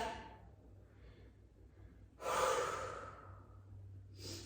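During an abs workout, the exerciser draws a few audible breaths close by, a soft exhale followed by a stronger, longer inhale and another breath at the end.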